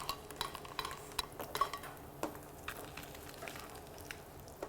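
Pike perch from Lago Maggiore cooking in foamy butter in a hot pan as it is flipped, with soft sizzling and a few light clinks and scrapes of a utensil against the pan, fairly quiet and close.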